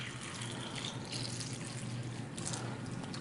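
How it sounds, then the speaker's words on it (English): Tap water is poured steadily into a container, a continuous close splashing flow that stays even throughout. "we're just going to simulate that by pouring some tap water in here"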